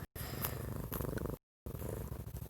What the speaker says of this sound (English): I have a cat in here